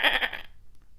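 A man imitates a goat with one loud, nasal, wavering bleat lasting about half a second up close, then falls quiet.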